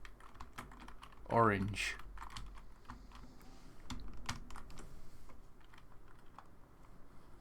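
Keystrokes on a computer keyboard while CSS code is typed, a quick cluster of clicks followed by scattered single taps, close and moderately loud, with a voice speaking over parts of it.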